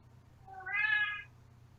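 A single cat meows once, clear and fairly close, rising and falling over about half a second against a quiet low hum, with no talking.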